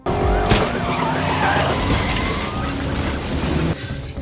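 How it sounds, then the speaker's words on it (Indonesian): A bounty hunters' car skids hard with loud tire noise and engine roar, then a brief impact as it crashes into a tree, with the rumble continuing after the hit. "mobil para pemburu hadiah menabrak pohon"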